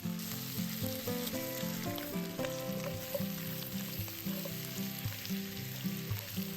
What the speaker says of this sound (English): Pour in the ribs, stir fry and color.